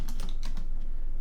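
Quick keystrokes on a computer keyboard while making a Cricut Mother's Day card, a few light clicks in a short burst and then tapering off, close and fairly soft with no voices.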